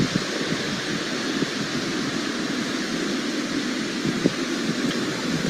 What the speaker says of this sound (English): maybe I can get the audio to play this time so you can hear the waves